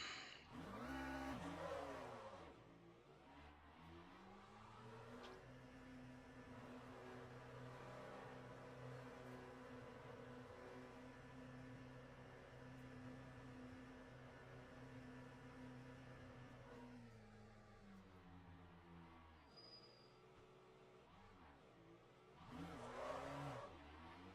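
Steady, fairly quiet race car engine drone in Le Mans Ultimate, holding a constant pitch through most of the run with brief revving shifts at the start and end.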